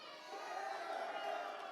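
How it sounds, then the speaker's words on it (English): An arena crowd cheers at the CS:GO Six Charlotte Major, a distant, diffuse roar of voices held steady and fairly faint for under two seconds. "The crowd think you're ready as well"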